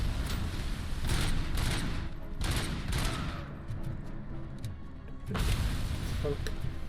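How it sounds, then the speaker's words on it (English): Sustained automatic machine gun fire in the game Robocop: Rogue City, loud, close bursts with brief lulls, mixed with game speech and combat noise. "He's getting entirely too good with that machine gun."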